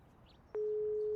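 A phone call tone in the Broken Sword 5 adventure game, a soft click followed by a steady, unbroken electronic tone that holds to the end, with no talk over it.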